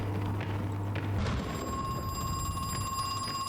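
A cell phone rings inside the horror video game Crow Country, a steady electronic tone with bright harmonic lines that holds clear and continuous against a low ambient hum.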